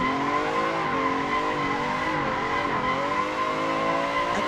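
A car drifts in a steady circle in Assetto Corsa, its engine droning continuously with wavering pitch as tires squeal throughout, loud and sustained with no talk.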